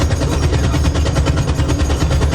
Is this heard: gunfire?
yes